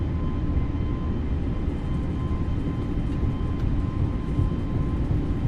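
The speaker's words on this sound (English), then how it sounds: "5 degrees nose down, brakes are released, and throttles to takeoff power" A320neo jet engines in a flight simulator spool up to takeoff power, a steady loud broadband roar with a faint tonal whine, constant throughout with no talk.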